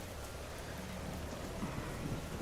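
Steady rain hiss in a video game city downtown, a continuous broadband wash with faint low rumbling underneath and no voices.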